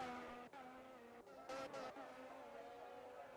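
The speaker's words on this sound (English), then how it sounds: "We got another car coming through." A race car in a racing video game passes with a steady, layered engine whine at moderate level, briefly broken by short gaps and a louder burst midway, heard alone without talk.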